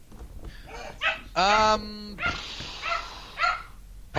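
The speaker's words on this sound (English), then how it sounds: "And my dogs freak out." Pet dogs barking and yelping excitedly, several sharp close barks and a drawn-out whining yelp in uneven bursts, with a voice briefly heard among them.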